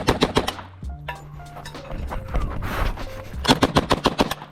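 M3 grease gun submachine gun firing rapid bursts at close range, sharp loud reports in quick regular succession with a short pause between bursts, outdoors at a shooting competition.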